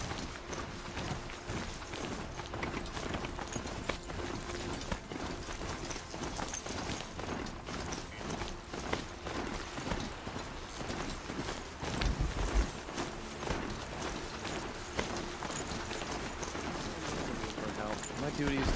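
Mechanical mount plodding along in Horizon, its hoof-like footfalls clopping in a steady rhythm beneath continuous game music and ambience, with a slightly louder cluster of steps partway through.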